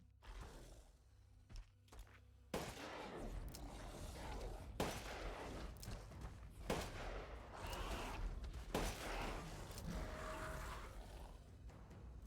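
Wolfsbane gunshots ring out in Resident Evil Village: a few sharp, loud cracks in the first seconds, then a dense, noisy stretch of scattered bangs and impacts packed closely together.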